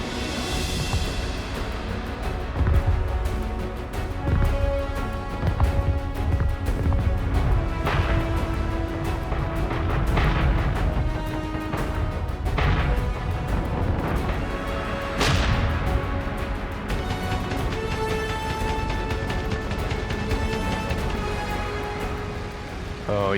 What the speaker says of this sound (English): Oh, you could see tracers and flak everywhere.